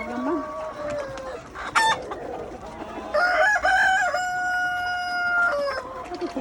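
Chickens fill a poultry farm in Godavari, with a rooster crowing loudly over ongoing clucking and calls from the flock, close by and continuous.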